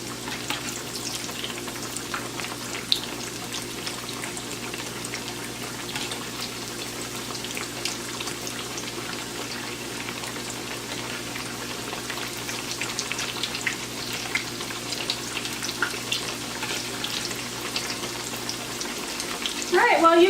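Eggplant slices sizzle steadily in a pan for eggplant Parmesan, a continuous crackling fry with light spatters that holds at a consistent level throughout, with no voices.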